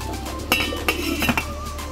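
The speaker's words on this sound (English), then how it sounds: "we're going to place our lid on and turn it down to a low heat" A metal lid goes onto a pot of boiling potatoes with a few sharp clinks and rattles, close by, over a low steady hiss.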